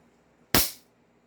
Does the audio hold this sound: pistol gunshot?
yes